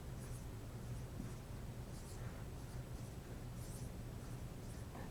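A pen scratches steadily across paper while someone sketches four small oxygen molecules for a chemistry lesson, a soft continuous scribbling with short strokes, close and quiet over a low background hum.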